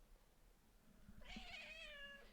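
A small cat gives a single soft, drawn-out meow, fairly faint and close, after a few quiet taps and rustles in an otherwise calm indoor room.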